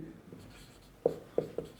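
Writing on a board during a maths lesson makes three quick scratchy strokes close by, over a faint room hum with no talk.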